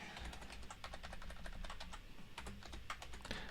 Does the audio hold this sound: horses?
no